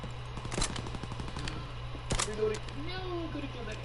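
Bursts of gunfire in a WW2 video game, a rapid run of shots followed by a few sharper cracks at moderate level, with a player's voice talking over the game sound.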